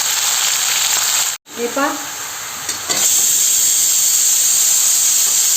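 Mutton drops into hot masala in a pan, giving a loud, steady sizzle and hiss of steam with a brief break and stirring clatter; someone speaks briefly over it.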